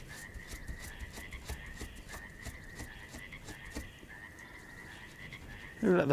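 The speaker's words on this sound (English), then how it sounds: "Who let the frogs in?" Frogs croak steadily in a repeating chorus, a constant rhythmic call sustained throughout, with a louder burst near the end.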